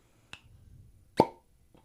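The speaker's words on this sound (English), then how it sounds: "Cork pop." A cork pulls free from a bottle of Bruichladdich Octomore whisky: a small click, then one louder, hollow pop, followed by near silence.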